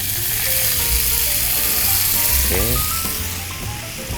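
Water poured into a hot pan while cooking nasi rendang in a hotel kitchen, giving a loud, steady hiss and sizzle with a few metallic scrapes; a voice speaks briefly over it.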